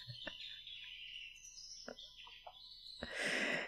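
A pet bird chirps in the dad-dating game Dream Daddy, a few short bright tweets and calls spaced apart against quiet game music, ending in a louder burst.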